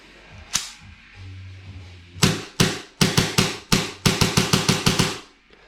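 An air-powered gun charged to 110 PSI with a full magazine fires a sharp single shot, then a pair, then two rapid bursts of loud, close cracks.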